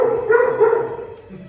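A part-Labrador, part-Doberman dog at the Anderson Humane animal shelter gives a short, close, drawn-out bark that trails into a whine, then fades.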